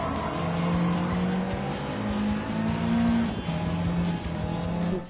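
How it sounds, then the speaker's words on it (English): Racing game engine of a Toyota AE86 in Gran Turismo, a steady sustained drone with tire squeal and a fluttering, turbo-like whine riding over it, loud and continuous with no talking. "I hear a turbo."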